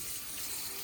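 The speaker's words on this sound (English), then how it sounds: "we're just gonna put enough water in here to cover this and boil it" Water running steadily from a tap into a pot of pork bones for tonkotsu ramen broth, a continuous close hiss and splash with no talk.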